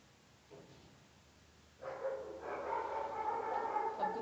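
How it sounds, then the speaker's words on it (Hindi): Dogs break into barking about two seconds in, a sustained, fairly loud burst of overlapping barks that continues to the end over a quieter room background. "अब कुत्ते भौंकने लगे"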